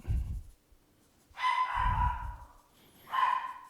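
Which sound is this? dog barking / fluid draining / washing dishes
dog barking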